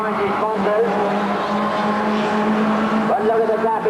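Stock cars racing at Ringwood Raceway, engines droning loud and steady throughout with a brief squeal of tyres, while a commentator talks over the noise.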